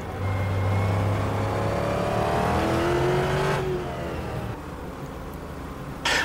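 GT race cars lapping Silverstone in sim racing, engines roaring loud and steady with rising and falling revs and gear-shift tones as cars draft down the straight, the sound fading somewhat toward the end, with no talk.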